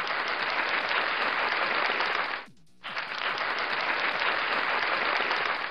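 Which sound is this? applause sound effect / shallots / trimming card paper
applause sound effect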